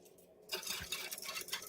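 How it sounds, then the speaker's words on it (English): A whisk mixes yogurt in a bowl, giving soft wet swishing and faint clinks that start abruptly and carry on as a close, quiet, continuous stir. "all I'm going to do is whisk it up and just mix it"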